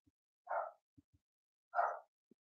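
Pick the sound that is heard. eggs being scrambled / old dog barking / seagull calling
old dog barking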